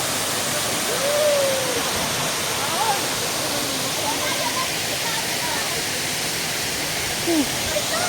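Daranak Falls roars as a steady, loud wash of falling water, constant throughout, with faint voices barely rising above the rush.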